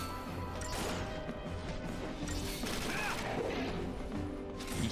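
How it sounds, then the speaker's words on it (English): Heavy fist blows smash into a behemoth in Final Fantasy 13 combat, dense crunching impacts and crashes layered over continuous game music and effects, fairly quiet overall. "The sound of his fists smashing into this behemoth."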